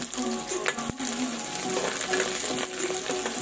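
Onions frying in hot oil give a steady, close crackling sizzle with occasional sharper pops and stirring scrapes.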